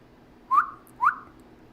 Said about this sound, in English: Can you whistle?